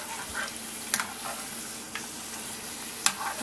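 A taco shell fries in a pan of hot oil, giving a steady close sizzle with a few light clacks and scrapes as it is turned and shaped.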